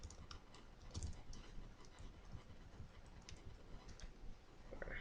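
Soft, steady keystrokes on a computer keyboard while typing text, light clicks spread evenly through the clip under a noisy room background.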